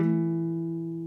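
A single sustained guitar strum rings on the A and D strings and decays slowly, a clear close chord with no talking.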